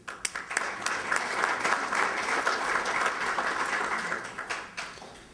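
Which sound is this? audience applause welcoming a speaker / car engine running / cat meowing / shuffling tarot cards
audience applause welcoming a speaker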